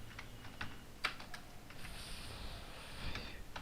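Keys tapped on a computer keyboard while a text area is filled in for a web design lesson, a steady run of light, close clicks with a few sharper strokes, no voices.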